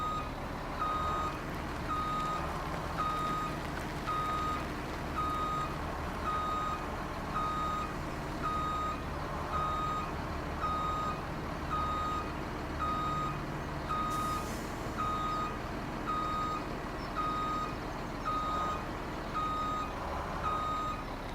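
In Farming Simulator 2017, a truck backs up with its reversing alarm beeping in a steady, evenly spaced rhythm over a constant engine rumble, with a brief hiss partway through and no talk.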